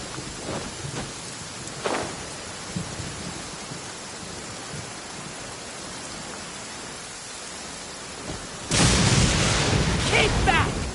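Steady rain pours down during a video game thunderstorm, with a rumble of thunder near the start and a louder crash of thunder toward the end.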